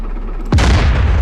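A Gvozdika self-propelled artillery gun fires a single heavy, booming round in the DCS World combat simulator, a sharp loud blast after a low ambient rumble, with a long rolling decay.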